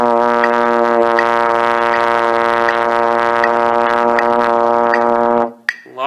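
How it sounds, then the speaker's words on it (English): A trombone or euphonium holds a long low tone on B flat during a low brass warm-up, a steady loud rich note with strong harmonics sustained for about five seconds, then cut off by a breath. "Now down to B flat, first position or no fingers for trombone euphonium"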